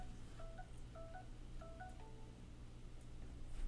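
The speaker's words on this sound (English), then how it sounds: "I forgot to put my phone on vibrate, sorry" A phone notification or ring tone sounds during a live podcast, a few short repeated electronic beep phrases in quick succession, faint and slightly distant over a low background hum.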